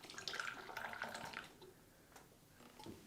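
Freshly brewed coffee poured into a cup, a short trickling splash of liquid that tapers off into faint drips and quiet clinks.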